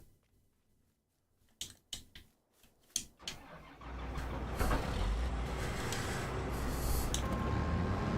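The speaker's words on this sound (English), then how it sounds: "We've got a little Deutz harvester." A small Deutz combine harvester in a farming video game cranks with a few sharp starter bursts, then catches into a steady, loud engine rumble that holds to the end.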